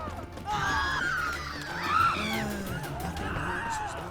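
An enemy man wielding a sword in The Witcher 3 screams in loud, wavering bursts over game ambience, with several rising and falling yells across the stretch.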